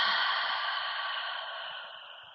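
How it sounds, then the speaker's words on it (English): A single long, airy exhale of a deep breath during an evening yoga flow, close and steady, slowly fading as it trails off, with no talking over it. "Take a deep breath in and a deep breath out."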